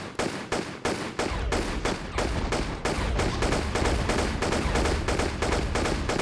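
Rapid, continuous video-game gunfire aimed at an orb during a boss fight in a Tomb Raider Level Editor level, Wreck of the Blue Storm, with dense rhythmic bursts of shots filling the whole stretch, loud and unbroken.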